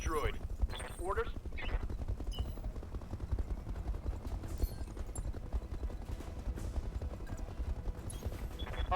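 A mech's full weapons salvo in the BattleTech game hammers an enemy vehicle, a dense, continuous barrage of rapid gunfire and explosions that runs steadily throughout, with a voice talking over it early on.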